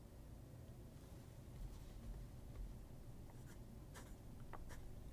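A fountain pen with a stub nib scratching across paper, faint and close, with soft continuous scratching and a few crisp strokes toward the end, alone without talk.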